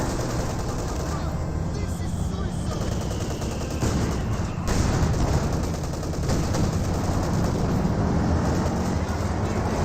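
Wehrmacht mortar and gunfire in Company of Heroes 2: dense, continuous battle noise with repeated gunshots and bursts under constant loud rumble, with a commentator's voice faintly beneath.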